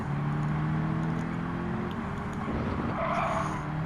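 Several AMG Mercedes A45 race cars in Gran Turismo 7 drive at speed, a steady loud engine drone with rising and falling revs and a brief tire squeal near the end.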